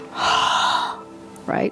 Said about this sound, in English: Ujjayi breath